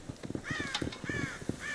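Crows cawing in the Red Dead Redemption video game, several harsh repeated caws over a busy farmyard background of clatter and murmuring, fairly close and steady.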